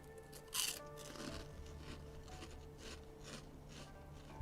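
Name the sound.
crunching on cinnamon twists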